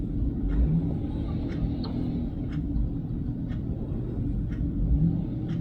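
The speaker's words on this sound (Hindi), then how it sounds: "रेस दे रहा है वो" A large vehicle stuck in deep snow during a blizzard revs with its tyres spinning: a low, continuous engine rumble with faint wheel whine and small scraping bursts, moderately distant, without speech.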